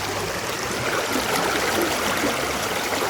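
River water rushes and splashes over rocks in a steady broadband wash, close and continuous with no voices.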